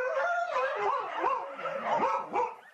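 Stray dogs on a Russian city street bark, yip and whine together in a loud, close, continuous chorus of overlapping calls.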